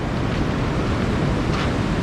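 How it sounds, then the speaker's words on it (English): Floodwater pours past a boom during the Garden Route floods, a loud, steady rushing roar with no pause and no voices. "the water is pouring down here"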